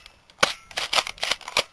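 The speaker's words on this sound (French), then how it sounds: "vous enquillez quelques tirs avec le fusil à pompe" An airsoft pump-action shotgun replica fires several sharp, snappy shots in quick irregular succession, loud and close, with no talking over them.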